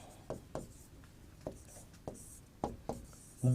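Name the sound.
teacher writing notes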